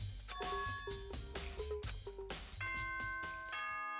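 A ding-dong doorbell chime in the video game Danganronpa Trigger Happy Havoc plays within busy game music, with bright sustained bell tones ringing over rhythmic beats.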